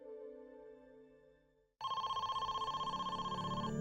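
A telephone rings with a steady repeating electronic trill, loud and close, starting abruptly after a stretch of low droning background, as a kidnapper places his call.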